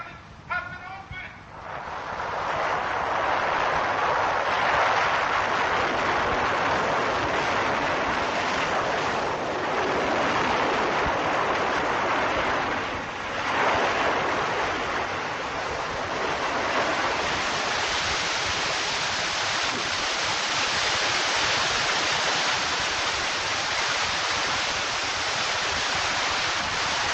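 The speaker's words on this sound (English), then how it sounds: "Water! Coming like a wall!" Flood water rushing in like a wall roars as a loud, continuous broadband surge that builds after a brief opening and holds steady throughout, with no voices.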